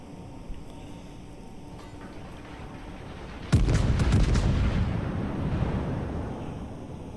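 Heavy naval guns fire in a World of Warships battle as the French battleship Normandie, giving one sudden loud boom followed by a rumbling, crackling tail of overlapping blasts that slowly fades over several seconds.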